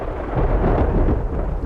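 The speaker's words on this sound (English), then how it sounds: "After lightning comes a boom. That sound is thunder." Deep thunder rumbles through a storm with some rain, a loud continuous roll that fills the whole short stretch.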